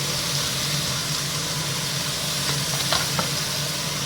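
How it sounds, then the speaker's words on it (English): Rump steak sears in olive oil in a hot pan, giving a loud, steady sizzle and crackle that runs unbroken from start to finish, with a few brief stirring scrapes and no voices. "So we're not trying to cook the meat, we're just sealing it."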